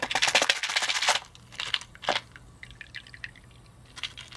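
Novacan Blackening Patina liquid drains off small metal parts, close-up, with bursts of trickling and dripping that fade into scattered faint drips.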